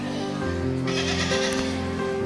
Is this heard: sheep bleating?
yes